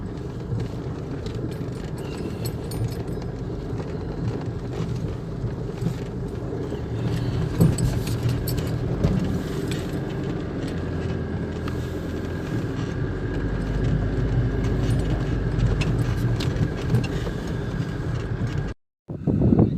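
Overlanding vehicle rolling along an unpaved gravel road toward Porcupine Rest Camp, a steady close rumble with crunching and rattling that grows louder partway through, then briefly cuts out near the end.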